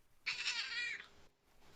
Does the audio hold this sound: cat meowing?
yes